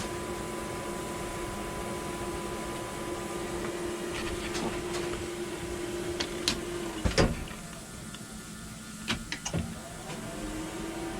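A 3D food printer runs with a steady mechanical whine and hum, joined by scattered small clicks and ticks from its moving parts, with no talking.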